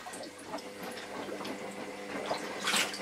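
Running water rinses soap powder out of a vintage Hoover cloth vacuum bag, a steady close splashing and gurgling rush with no talking.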